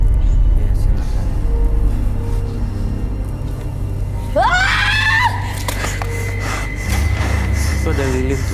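A possessed woman screams in a long wavering shriek over a constant heavy low rumble, with a fainter cry near the end.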